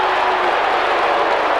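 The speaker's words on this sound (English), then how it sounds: "Crowd didn't like that" A large football crowd at a 1998 AFL match between Carlton and Port Adelaide roars in a loud, sustained wash of disapproval, a dense unbroken din from the stands.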